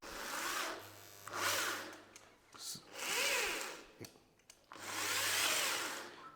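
A power drill drives a screw into a WPC board during a screw holding test, with several whirring bursts of varying length separated by short pauses, loud and close.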